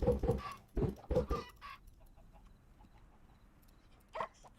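Chickens cluck in a survival video game, several quick close clucks at the start followed by a fainter cluck near the end over quiet background.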